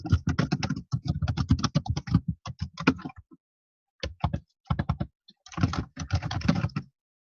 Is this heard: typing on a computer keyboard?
yes